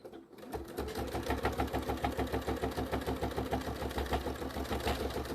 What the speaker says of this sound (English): We are going to grab it and sew it to the edge of that